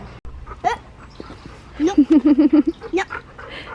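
An excited pet female dog on a family walk gives a quick run of high whimpering yips in close succession, then one more, near and fairly loud, with a short human voice earlier.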